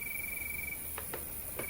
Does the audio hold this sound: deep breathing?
no